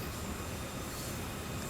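A long freight train rolling on the Sand Patch Grade in Train Sim World 2, a steady dense rumble and wheel roar that fills the whole moment evenly, with no speech.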